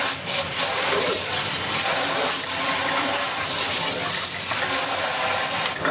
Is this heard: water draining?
yes